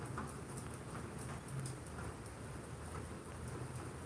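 Steady rain patters during a storm, a faint even hiss of drops on surfaces with low rumbling underneath, continuous and distant throughout.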